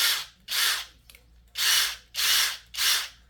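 A Flex cordless power tool, compact and high-torque, running on a small battery in four loud bursts of whirring motor, each lasting about half a second to a second, separated by short pauses.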